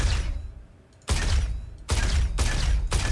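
Sniper rifle fired in the video game Star Citizen: three loud, booming broadband shots at roughly one-second intervals, each followed by a sustained rumble that runs straight into the next.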